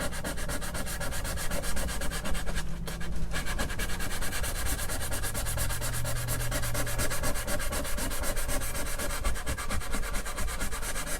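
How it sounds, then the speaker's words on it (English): Steady, continuous sanding and rubbing, close and loud, with faint tonal ringing from strings beneath the abrasive scratching, as a hand brushes the strings while sandpaper works the frets of a 1970s Crestwood 2064 guitar. "what you're hearing is these strings, my hand kind of hitting these strings here."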